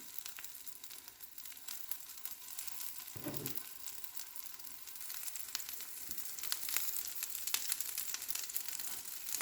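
Chickpeas sizzle and fry in a hot pan, a steady crackling hiss that stays close and even, with a brief stirring or shifting sound partway through and no talking.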